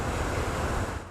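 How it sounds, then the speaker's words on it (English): Strong wind and high waves pound the Lake Michigan shore, a loud, continuous roar of surf and gusting wind buffeting the microphone with no pauses. "Strong winds and high waves made for dangerous conditions along Lake Michigan."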